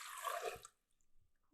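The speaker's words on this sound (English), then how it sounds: "I'm gonna add my water." Water poured into a Multo countertop cooker by CookingPal for lobster risotto, a soft close splashing trickle for about half a second that stops abruptly, then near silence and a small clunk at the end.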